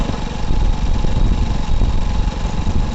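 A motorbike engine hums steadily and close while being ridden, with a low, continuous throb and no other sounds standing out.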